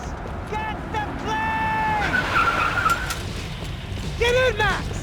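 A car drives hard and skids in Max Payne 3, with loud, repeated tire squeals over a revving engine and voices shouting in the background.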